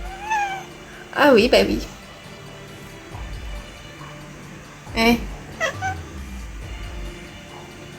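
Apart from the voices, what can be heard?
kitten meowing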